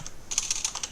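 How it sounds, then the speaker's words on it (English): Computer keyboard typing, quick light clicks in a short burst of about a dozen keystrokes, close and clear with no voices. "you can obtain that by just typing in"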